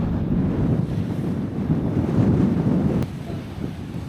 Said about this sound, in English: you can see like the waves pounding in this rock